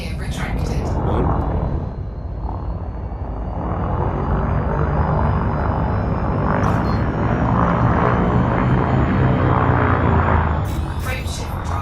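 A spaceship's frame shift drive charges up in Elite Dangerous: a loud, steady engine rumble with a wavering, building whine that swells through the middle and holds to the end, with a brief voice-like element over it.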